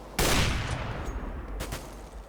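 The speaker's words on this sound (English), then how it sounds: "Robin gets a kill with the AK through the smoke" A burst of AK rifle fire from the video game CS:GO, fired through smoke in an online match on the map Cobblestone, cracks loudly near the start and trails off into a fainter echo. No one talks over it.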